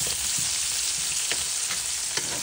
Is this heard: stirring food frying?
yes